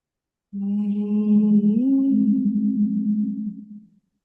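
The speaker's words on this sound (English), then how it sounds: "upon the second breath, I want us to hum in whatever tone comes to you in that moment" People hum together on one sustained, steady low tone that starts abruptly, holds for about three seconds with a slight shift in pitch partway, then fades out, close and fairly loud with no talking.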